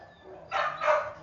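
Two short, full-bodied barks from a dog, close by and fairly loud, the second following about a third of a second after the first over a quiet background.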